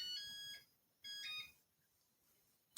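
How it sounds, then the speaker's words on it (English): Oven timer alarm sounds two beeping bursts, each about half a second long with a pause between them, followed by a brief sharp click near the end in an otherwise quiet kitchen. "The timer's about to go off, and we're going to be taking our meat out of the oven."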